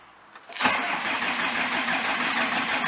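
An old car's engine cranks briefly, then catches and settles into a steady, fairly loud running drone that continues without a break.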